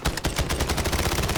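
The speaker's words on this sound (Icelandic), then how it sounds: "Svaka byssa." Rapid automatic gunfire from a video game, a dense, loud burst of closely spaced shots rattling continuously for over a second with no pause.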